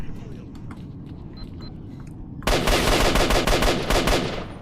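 Gunfire in the video game STALKER: Shadow of Chernobyl erupts after a quiet stretch as a loud burst of rapid automatic shots, close and sharp, fading slightly at the end.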